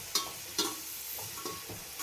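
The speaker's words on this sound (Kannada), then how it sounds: "ಈರುಳ್ಳಿ ಜೊತೆ ಫ್ರೈ ಆಗಬೇಕು." Thick-cut onions frying in a pan for chicken gravy, with a few bright sizzling bursts and scraping stirs spaced through a quiet background, fairly close and without talk.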